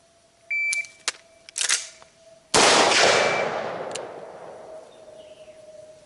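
Rifle gunshots fired during a timed shooting drill with a 13.7-inch barrel: a few sharp cracks come first, then one loud, close blast whose echo rings out slowly, with electronic timer beeps early on.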